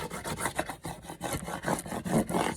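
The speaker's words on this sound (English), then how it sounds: "this scraper comes in handy, because you're going to want to scrape the whole design down" A hand scraper rubs a vinyl car decal, cut on a Cricut machine, down onto transfer tape in quick, rhythmic back-and-forth strokes. The scratchy rasp is soft and close, with no voices.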